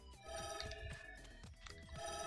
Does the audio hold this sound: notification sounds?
yes